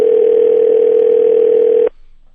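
A steady, loud telephone dial tone holds without a break for about two seconds while a call is placed to comedian Dave Attell, then cuts off abruptly and leaves near silence.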